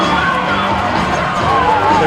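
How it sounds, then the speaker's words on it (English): A basketball arena crowd roars and cheers loudly and continuously as two college teams retake the floor. Shouts and whoops rise over a dense, sustained wall of noise. "listen to this crowd as the two teams retake the floor"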